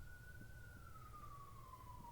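A police car siren passes outside near an interstate, a single faint wail sliding slowly downward in pitch, heard from a distance over a low steady traffic hum.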